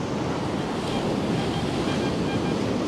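Waves breaking on a Dorset beach, with steady, broad surf wash and wind buffeting the microphone throughout, loud and continuous with no clear pauses.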